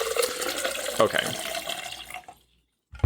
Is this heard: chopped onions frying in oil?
no